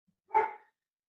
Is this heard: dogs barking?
yes